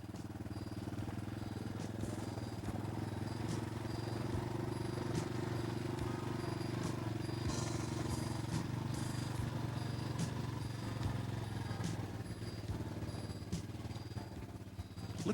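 Steady droning engine of a 1985 Yamaha Tri Moto three-wheeler being ridden and turned, a continuous buzzing hum held at an even level throughout, with faint clatter and background noise on top.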